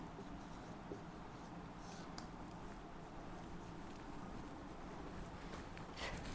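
Soft scratching of a pen writing notes by hand, quiet and close, continuous light strokes with small taps over a faint background hiss.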